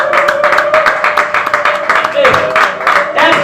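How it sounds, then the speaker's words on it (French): A church congregation claps hands in rhythmic praise at a Sunday service, a steady beat of claps running under a loud voice speaking over it. "Joignez vos 2 mains, acclamons très fort le Seigneur."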